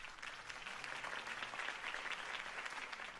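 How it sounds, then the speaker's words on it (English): A crowd applauds steadily after a campaign speech in the video game Batman: The Telltale Series, a faint, continuous patter of clapping with no break. "If only Mr. Wayne, my campaign's largest backer, could have heard that applause"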